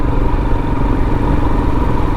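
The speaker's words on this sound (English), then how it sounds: "There's Paul on his Triumph Bonneville from the Terminator movie." A Triumph Bonneville motorcycle engine runs with a steady, loud, close-up chugging rumble and a light mechanical clatter, with no voices.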